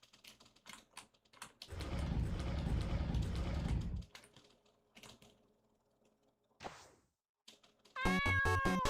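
A cat meows in the video game Changed, a short rising cry partway through, surrounded by loud game noise bursts, keyboard-like clatter and a harsh electronic blast near the end.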